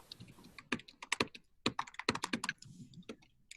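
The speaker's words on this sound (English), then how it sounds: "if you're typing, hit mute." Rapid, uneven keystrokes on a computer keyboard picked up during a call, close and clicky with short pauses between bursts.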